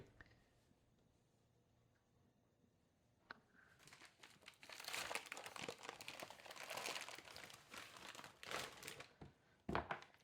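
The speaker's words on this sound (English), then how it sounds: "Take the beef short ribs out of the freezer paper that I put them in when I detached them from the ribeyes." Beef short ribs are unwrapped from stiff freezer paper in a home kitchen. After a quiet start, close, steady crinkling and rustling runs on with sharp crackles and tearing-like snaps throughout.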